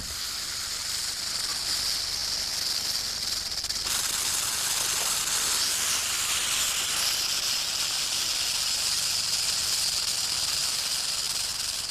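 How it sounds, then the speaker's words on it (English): A rattlesnake shakes its tail in a continuous dry, buzzing hiss, loud and close, holding steady for several seconds and swelling slightly in intensity partway through. "Each time a rattlesnake sheds its skin, the last scale fails to come away, adding itself to the rattle."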